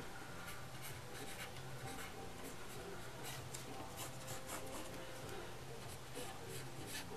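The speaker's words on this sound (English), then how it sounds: "just I draw little C's and then connect it" Pencil drawing hair strokes on paper, small looping C-shaped marks joined together, a steady close scratchy rubbing with rapid short strokes throughout, faint and continuous.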